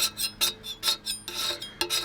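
Repeated rasping strokes of a scraper dragging across a painted bicycle frame, about eight short bursts in an uneven rhythm, close and fairly loud with no talking.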